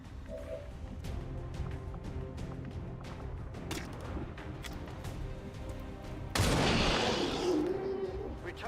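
Gunfire in XCOM 2: a string of sharp shots cracks over a steady game backdrop, then a heavy, loud blast bursts out near the end and fades into a rumbling roar.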